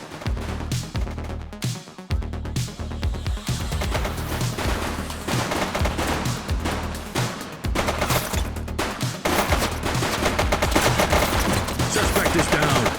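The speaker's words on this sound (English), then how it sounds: "Shots fired!" Sustained gunfire rattles through a gang showdown in the police game The Precinct, dense bursts and rapid automatic shots stacked over pulsing background music, loud and continuous throughout.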